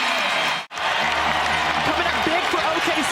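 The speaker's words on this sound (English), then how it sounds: "the crowd here at Paycom Center appreciating the effort" A basketball arena crowd at Paycom Center applauds and roars in a steady, loud wash, cut by one brief dip, while a commentator talks over it.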